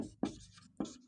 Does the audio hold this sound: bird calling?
no